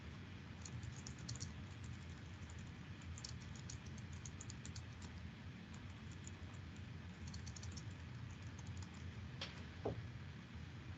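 Quiet typing on a computer keyboard, a steady patter of soft key clicks in short bursts over faint room hiss, with no one talking.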